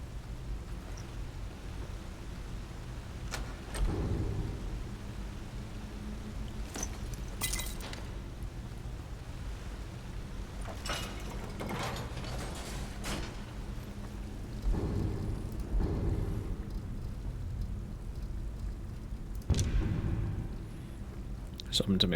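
Electric crackling from a lightning-enchanted mace in modded Skyrim Special Edition, with several loud bursts of sizzling, thunder-like arcing spread over a steady game background.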